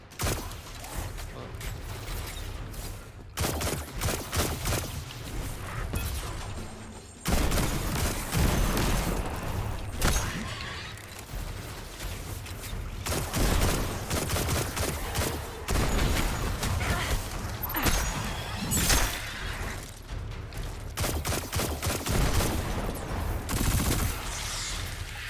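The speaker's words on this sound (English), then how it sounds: "Clear out those Fallen, and we'll figure out our next move. Sniping with your pistol." Pistol gunfire in the video game Destiny 2, heard as loud, repeated sharp shots in irregular volleys over a dense, constant game soundscape, with no talking.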